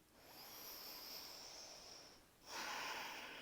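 Slow, soft breaths during a yoga session, a long airy exhale followed by a sharper, louder inhale through the nose, close to the mic and faint overall.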